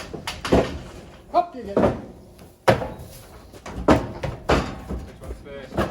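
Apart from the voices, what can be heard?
barn door being pulled open on a farm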